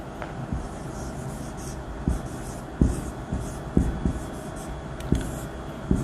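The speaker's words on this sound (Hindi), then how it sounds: "तो चलिए लिखते हैं।" A pen or chalk writes steadily, producing soft scratching strokes and a series of irregular taps over a constant low hum. The marks are close and moderately quiet, and no one speaks.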